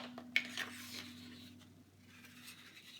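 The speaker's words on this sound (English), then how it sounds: "we're going to trim off a 3 by 12 inch piece" A paper trimmer slicing light blue cardstock for a scrapbook page: a sharp click as the blade engages, then a soft dry rasping slide along the sheet, quiet and close over a low steady hum.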